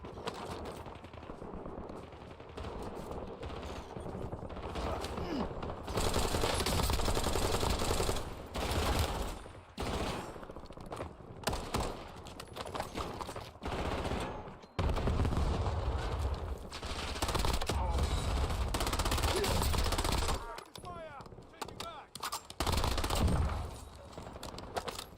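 Bursts of machine gun fire in the video game Warzone, loud rapid rattling volleys repeating across the span with brief pauses between them, alone without talk.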